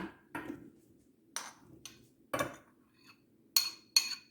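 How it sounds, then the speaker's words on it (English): A spoon clinks and taps against a pot on a stove while strawberries are scooped in, with a series of faint, sharp metallic knocks spaced irregularly in a quiet kitchen. "I'm gonna put the strawberries inside with my spoon."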